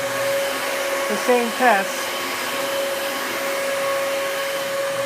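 A Dyson DC33 upright vacuum cleaner runs steadily with a constant whining motor hum and airflow rush, while a person speaks briefly partway through.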